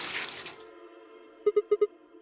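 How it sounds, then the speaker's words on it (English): Water is poured in during a puzzle in the game Virtue's Last Reward. A brief rushing hiss fades out, then a quick run of four clear, bright plinks rings out close and alone against a quiet, humming background. "Now I just need to pour the water in."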